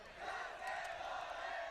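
A distant crowd roars and cheers at an ultimate frisbee world championship match, a faint, sustained wash of many voices.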